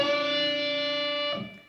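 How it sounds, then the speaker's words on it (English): A single string bend on the 9th fret of the high E string of an electric guitar through distortion gives a sustained bright note. It rings cleanly for over a second, then cuts off with a short scratchy release, with no talking. "you bend up the 9th fret of the high E string"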